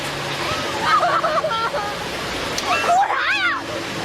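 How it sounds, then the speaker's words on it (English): Tsunami waves engulf a town, a continuous rushing roar of water under overlapping voices, with louder surges and splashing building midway through. "The terrifying waves of the tsunami engulfing the town at an unimaginable speed"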